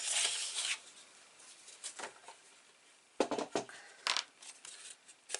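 Cover board for a hardcover notebook being cut along a score line with a blade, a series of short, crisp scraping cuts in separate bursts, close and fairly quiet, with no talking.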